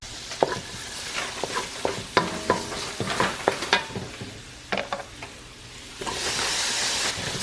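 Onions, garlic and tomatoes sauté in a pan with a soft, constant sizzle, broken by irregular scraping and clattering stirs from a utensil, close-up with no talking, the frying hiss rising toward the end.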